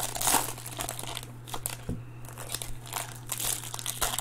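A foil-style 2020 Topps Series One jumbo baseball card pack wrapper is crinkled and torn open up close, producing steady crackling and rustling over a few seconds, with a low hum underneath and no speech.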